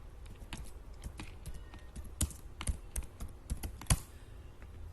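Typing a name on a laptop computer keyboard, a quick irregular run of crisp close key clicks, soft and isolated, with a few sharper taps standing out.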